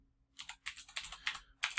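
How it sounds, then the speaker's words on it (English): Quick bursts of clacking come from fingers typing on a computer keyboard while entering data into a spreadsheet. The keystrokes land close and crisp in uneven clusters against a quiet background. "I won't speed it up because I can type pretty fast"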